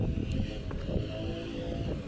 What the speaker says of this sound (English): Oh God, the wind.